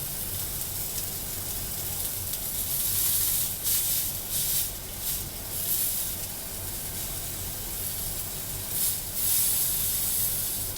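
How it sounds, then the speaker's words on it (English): Sous vide pork loin sears in a hot pan, giving a loud, steady sizzle and hiss that runs unbroken throughout, with brief surges of spattering. "we're going to go ahead and sear it"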